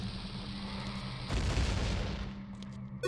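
A bomb goes off in The Legend of Zelda: Ocarina of Time, a single loud, broad burst that swells suddenly over ongoing game noise and then fades slowly away.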